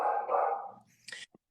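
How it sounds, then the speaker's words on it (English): A pet dog barking at Amazon package deliveries, one loud nearby bark trailing off, followed by a few short fainter yips. "My dog is losing her shit."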